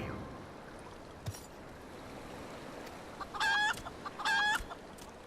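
A chicken in Final Fantasy XIV gives two short, bright clucks in quick succession partway through, heard over a soft, steady background hiss, with a faint knock just before them.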